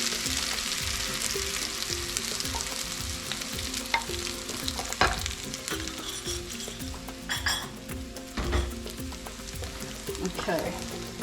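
Egg, garlic and oil stir-fry in a hot pan for crab fried rice, steady loud sizzling broken by scraping stirs and occasional clinks of a utensil against the pan.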